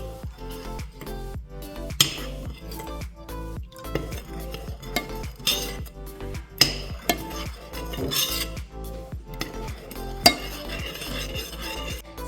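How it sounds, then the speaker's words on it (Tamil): Whipping cream, sugar and vanilla sugar being stirred together in a pot for panna cotta, with steady scraping and clinks of a utensil against the metal throughout, fairly close and with no one speaking. "இனி விப்பிங் கிரீம், சீனி, வெனிலா சுகர் எல்லாத்தையும் சேர்த்து ஒரு கலந்து கொள்ளுவோம்."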